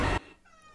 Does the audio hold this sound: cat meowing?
yes